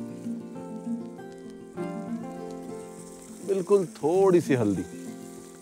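Ground spices such as coriander and cumin powder, with a little turmeric, roasting in a pan over an open fire outdoors in a jungle setting, making a steady soft sizzle under continuous nearby talk.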